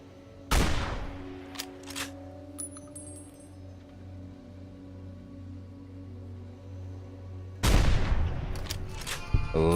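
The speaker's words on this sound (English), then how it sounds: "Love anti-material rifles." Anti-materiel rifle fire in Fallout: New Vegas, two loud, heavy booming shots several seconds apart, each with a sharp crack and a lingering tail, and a low ambient hum between them.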